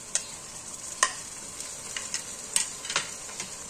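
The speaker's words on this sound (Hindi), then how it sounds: "थोड़ी देर और इसको फ्राई करेंगे।" Chopped onions and garlic paste frying in a pan, a steady soft sizzle broken by a few sharp scrapes and clicks of a spoon stirring, close by with no talk.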